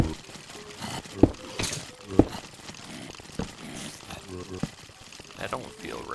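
Water pouring and trickling in Minecraft with the Project Ozone modpack, a soft splashing flow broken by a few sharp clicks, with talk over it.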